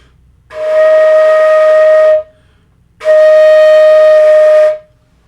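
Two sustained, steady flute notes, both E flat, each held about two seconds with a short gap between, clear and fairly loud with a slightly breathy edge.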